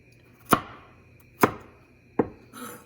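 A knife chops carrots into pieces on a board, with four distinct, sharp thuds spaced unevenly about a second apart, close and crisp against a quiet background.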